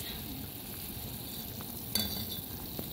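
Fried mackerel simmers in a pot with tomato, black pepper and onion, giving a quiet steady sizzle and bubbling with a soft clink or stir near the middle.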